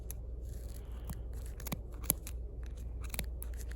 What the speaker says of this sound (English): it can be tough to cut through all of the layers